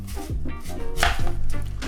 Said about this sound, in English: You're gonna take an apple and slice it kind of down the middle so you get 2 really thick slices.